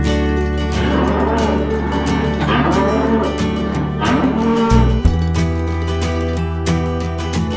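Cattle on a dairy farm moo long and loud at close range, several calls overlapping into a steady bellowing chorus that runs throughout with no pause.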